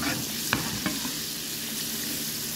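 Chicken pieces frying in a pan for chicken sizzling, a dense, steady sizzle close up with a couple of sharp clinks of a utensil early on.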